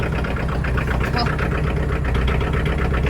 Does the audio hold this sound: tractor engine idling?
yes